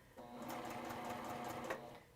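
Sewing machine stitching through quilt fabric, a steady rapid mechanical whir that runs for about one and a half seconds and then stops, close and fairly quiet.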